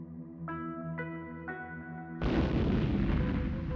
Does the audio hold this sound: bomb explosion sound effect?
yes